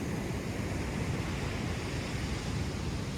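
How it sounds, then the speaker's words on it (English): Ocean surf breaking on an empty beach, heard as a steady loud wash of broadband roar with some wind buffeting, continuous and without voices. "we were standing just where the waves are breaking over here"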